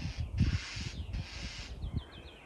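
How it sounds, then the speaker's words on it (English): Outdoors, a mockingbird squabbling with a hawk gives two long, harsh rasping calls followed by a quick run of short chirps, fairly close and clear. "The mockingbird is not happy"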